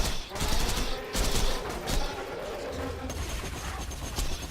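Rapid gunfire from a Moxie weapon in Borderlands 2, bursts of repeated shots and crackling impacts swelling and fading in waves, with a faint voice briefly underneath.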